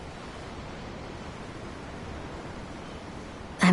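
Ocean waves in the video game Tales of Arise wash in a soft, steady hiss of surf, even and unbroken, ending with a brief louder burst.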